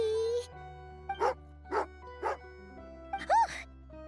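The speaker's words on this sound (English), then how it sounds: "angry doggy. Oh, Tagarin doesn't like being petted then." An angry dog in a video game barks in several sharp, separate yips and woofs spaced about half a second apart, then a final rising whine-like bark, alone over a quiet musical background.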